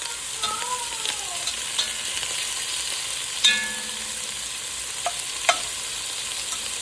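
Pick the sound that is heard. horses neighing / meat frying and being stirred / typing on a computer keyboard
meat frying and being stirred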